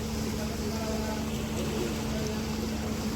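Motorboat engine running steadily as a boat nears the sea fort at Khanderi, a constant droning hum with wind and water noise, heard without a break and with no clear talking.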